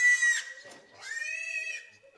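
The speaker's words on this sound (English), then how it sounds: "I hope we can sleep with such loud pigs" Pig-like squeals and oinks in two loud, drawn-out bursts with a short gap between, heard during a Deadlands tabletop role-playing session.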